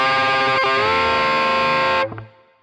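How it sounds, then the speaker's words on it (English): Distorted electric guitar note on the G string pushed up in a full bend, picked with a brief attack then rising in pitch and holding loud and steady for about two seconds before stopping abruptly. "The second time is a full bend like this."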